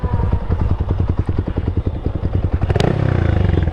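Modified motorcycle exhaust on a test ride, a loud, close, rapid rhythmic popping burble that swells into a sharp rev with a clattering crackle near the end.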